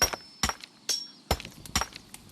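A hammer chips ore in A Township Tale, giving sharp, close impacts roughly every half second, each a bright crack with a brief ringing clink, in an irregular rhythm with quiet gaps between strikes.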